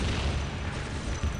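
Heavy weapons fire and explosions in a Warhammer 40,000 battle, a continuous deep rumbling barrage of booms filling the whole moment at high level, with no voices.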